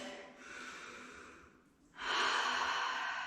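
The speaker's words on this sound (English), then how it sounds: "Taking a cleansing breath." A deep cleansing breath while standing in a yoga session: a soft inhale followed by a louder, airy exhale, close up and alone.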